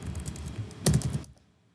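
A short burst of keystrokes on a computer keyboard as a terminal command is typed, quick soft clicks ending in a slightly firmer tap before falling silent.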